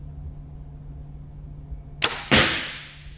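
An arrow with 3D-printed fletchings loosed from an 80-pound bow: a sharp snap of release, then a loud thwack as it strikes a target a moment later, ringing briefly before fading over steady background hum.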